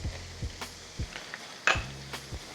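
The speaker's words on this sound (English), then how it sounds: "Stir it so it doesn't burn." A spoon stirring flour into hot fat for a roux in a pan, with repeated soft scraping strokes in a loose rhythm over a low sizzle and one brighter clink, close and fairly quiet, with no talking.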